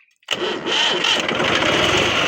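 A tractor engine cranks and catches after a brief silence, then settles into a loud, steady running rumble close by.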